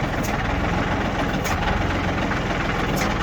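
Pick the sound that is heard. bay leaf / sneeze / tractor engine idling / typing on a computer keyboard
tractor engine idling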